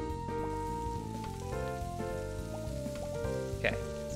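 Meat sizzling on a cooking station in the video game Cinnamon's Cooking Quest, a soft crackling fry under a steady tonal game music loop, with a brief chime near the end.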